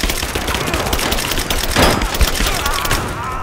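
Rapid automatic gunfire from a machine gun in the video game Rise of the Tomb Raider, a dense, continuous crackle of overlapping shots, loud and sustained without pause.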